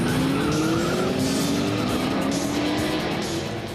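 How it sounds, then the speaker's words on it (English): A race car at the Richard Petty Driving Experience roars at speed with a steady, loud engine drone and rising pitch, tires hissing and squealing throughout, heard from inside the car. "Now I'm actually riding in a car."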